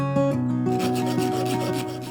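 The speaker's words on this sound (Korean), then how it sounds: "어딘가에서 굴러다니던 일회용 스패너를 칼날 모양을 잡고 줄톱으로 잘라줍니다" A disposable spanner being cut into a knife blade shape with a hand fret saw, strokes scraping back and forth in a quick, even rhythm with a ringing metallic pitch, close up.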